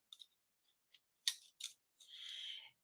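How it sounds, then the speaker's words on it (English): Scissors trimming a piece of card stock for a stamping project: a few faint snips, then two sharper cuts and a longer sliding slice, close and alone with no talk. "So let's trim another one off."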